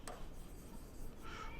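Chalk or marker scratches steadily across a classroom board during an electronics lesson, a faint continuous rubbing close by without talk.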